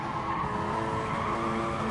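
Race car engines roar steadily in GT Sport at the Catalunya circuit, with a loud sustained drone and tire skidding layered over it.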